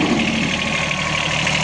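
A Komatsu 1500 kg forklift's three-cylinder water-cooled engine idles steadily and loudly up close, a dense even rumble with no talk over it.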